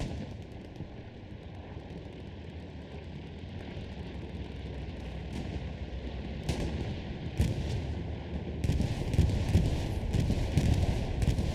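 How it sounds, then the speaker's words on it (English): Bombing-run explosions and gunfire from the Hell Let Loose war game thunder over a constant battlefield rumble, with sharp blasts arriving in clusters that grow heavier and more frequent toward the end. "Retaliatory bombing run comes in a little too late"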